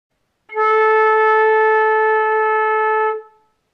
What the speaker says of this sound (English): This is how to play the note A on the flute in all three octaves.